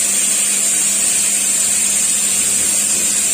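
A mixer grinder whirs steadily, grinding batter for roti at a loud, close, constant roar with no pauses and no voices.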